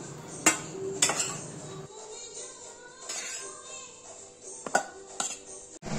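Food is served onto plates at home, with sharp clinks of dishes and cutlery striking each other in scattered bursts over quieter scraping and faint background voices.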